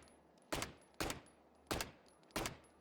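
Four sharp gunshots from a weapon in the shooter video game Valorant, evenly spaced about half a second to three quarters of a second apart, each a loud crack with a short decaying tail, no voices.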